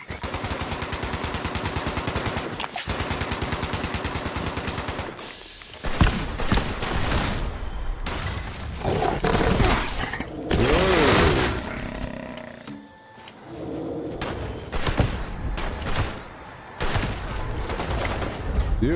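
Gunfire in the game Fallout 76, a mix of rapid bursts and roaring blasts with heavy, dense stretches broken by short gaps, loud and close in the game's soundscape.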